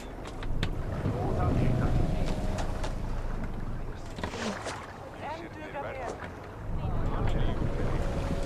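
A Viking longship sails in Assassin's Creed Valhalla, with water rushing and wind buffeting the hull steadily and loudly while crew voices shout intermittently over the sea noise.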